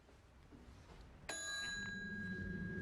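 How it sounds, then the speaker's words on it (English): A hotel front-desk service bell in a 1939-style hotel lobby is struck once, giving a bright, close ding that rings on with a sustained metallic tone over a low background hum. "I was just playing with the bell."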